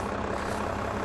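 Tractor engine from the Farming Simulator 22 video game, a steady, loud, low idle-like drone heard close and alone.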